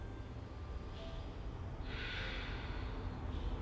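Deep breaths during a vinyasa yoga session, a slow, close airy inhale and exhale through the nose and mouth, faint and steady with a brief breathy rush partway through.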